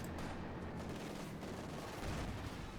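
Tank machine gun fire in the Company of Heroes 2 real-time strategy game, a continuous heavy rattle of automatic fire with booming explosions mixed in, loud and steady throughout the short stretch.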